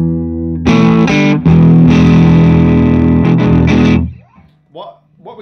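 A vintage Gibson ES-335 electric guitar plays loud distorted chords at an edge-of-breakup tone with harsh clipping, ringing for a few seconds before cutting off into faint trailing sounds.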